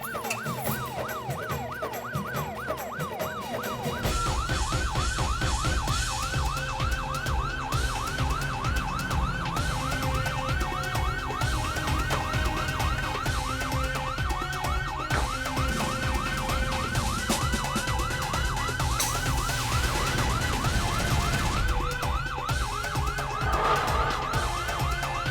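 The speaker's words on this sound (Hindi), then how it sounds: "पोपटलाल को लगा है पुलिस का सायरन सुन के" Police siren wailing steadily and loudly in repeated rising-falling cycles, close by with a vehicle engine underneath, no voices.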